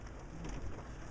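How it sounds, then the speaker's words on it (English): Rain pattering steadily on a parked 2006 Toyota Prius with its engine off, a soft continuous wash of drops at low volume with no voices. "you pretty much all you're going to hear is the rain"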